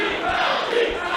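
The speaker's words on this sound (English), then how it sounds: "And the crowd is clapping Cheeks right now." A wrestling crowd at an indie street show claps and cheers, a dense wash of voices and applause filling the space at a steady level, with no single voice standing out.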